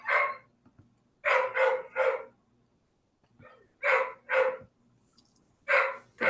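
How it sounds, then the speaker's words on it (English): Several dogs bark in bursts of two or three sharp barks, loud and fairly close, with quiet pauses between volleys and no talk. "quick presentation with my dogs commenting in the background"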